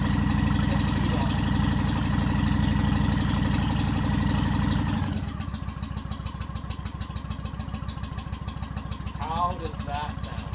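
A Honda Shadow motorcycle engine idles after a choke start, first loud and rumbling and then settling to a steadier, quieter low throb, with someone talking briefly near the end.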